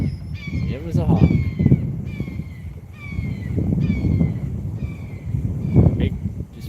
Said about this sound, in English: I think it's a hawk.